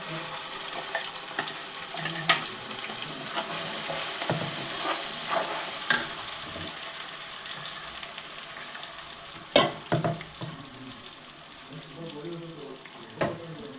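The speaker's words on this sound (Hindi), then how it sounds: "तो ये इधर एक तरफ मैं मसाले भूनती रहूँगी" Ground spices being fried in hot oil in a home kitchen, a steady low sizzle under faint clinks and occasional stirring knocks.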